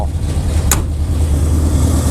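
A 1979 Chevrolet engine with a misfire runs steadily nearby, a low continuous rumble with an uneven underlying beat and a brief sharp click partway through.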